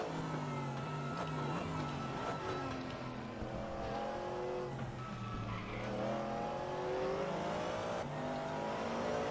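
Several V8 American cars and a truck race around the Suzuka circuit in a racing game, engines droning and revving continuously with shifting pitch as they run close together, loud and steady throughout.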